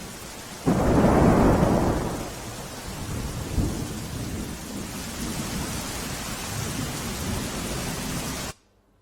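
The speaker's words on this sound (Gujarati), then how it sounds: "ભારે પવન સાથે વરસાદ પડી રહ્યો છે" Heavy rain roars steadily in Navsari, Gujarat, swelled early by a loud rumbling gust of strong wind, then pours on evenly until it cuts off abruptly near the end.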